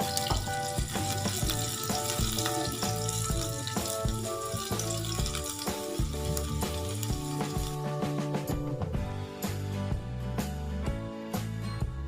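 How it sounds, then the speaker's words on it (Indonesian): Chopped shallots sizzle and crackle steadily in a hot pan as they are stir-fried, a dense, close frying hiss with occasional stirring clatter and no talking. "masukkan bawang merah yang sudah dirajang. Goreng-goreng sebentar, ditumis-tumis sampai harum"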